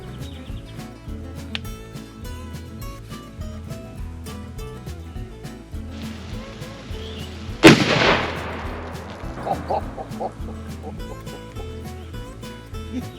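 A single armor-piercing rifle round fired at body armor cracks out as one sharp, very loud blast with a ringing decay, standing out against quieter background sound.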